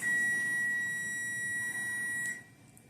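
A kitchen timer forgotten during beef tallow soap making shrills with a continuous high electronic beep, loud and close, then cuts off abruptly, leaving low room hiss.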